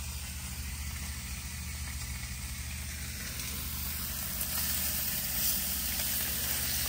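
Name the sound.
bacon frying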